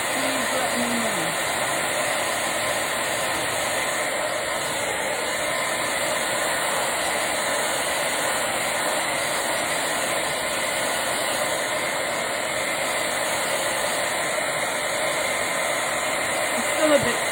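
A handheld heat tool blows with a steady, loud whir, drying Pentart craft paint and snow texture on a Christmas glass plate, bowl or ornament, and it runs unbroken throughout.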